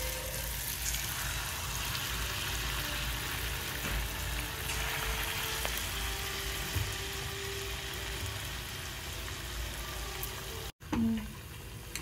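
Sweet theepi pongadalu deep-fry in hot oil until golden brown, giving a constant dense sizzle and crackle that stays close and even throughout, broken by a short dropout near the end.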